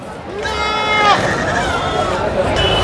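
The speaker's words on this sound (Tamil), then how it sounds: "அண்ணா இது செம்மறி ஆடு" A sheep bleats with a long wavering cry at a busy goat market in Ranipet during the Ramzan festival season, with crowd murmur and voices nearby.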